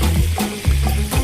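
Scallops sizzle loudly in a frying pan while being stirred, a close crackling hiss swelling in three rhythmic pushes with scraping movement and no talking.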